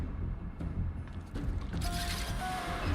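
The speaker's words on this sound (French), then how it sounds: "C'est quoi aussi ce son d'ouverture de porte là?" A door-opening mechanism in Batman: Arkham Asylum gives off short metallic clanks and creaks, then a longer grinding, ratcheting whir as the door slides open, all at a quiet level.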